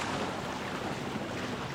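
Steady wind rushes over open water while sailing a small Minicat Explorer 520 catamaran, a loud, even blustery roar with no voices.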